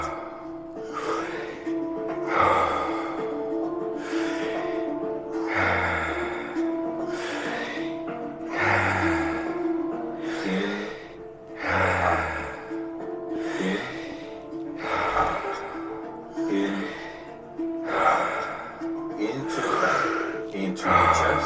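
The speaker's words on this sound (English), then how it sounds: "Breathe in. Breathe out." Slow, deep breaths in and out during a guided breathing exercise, each inhale and exhale repeating in a steady wave-like rhythm, close and fairly loud, with a low hum or music underneath.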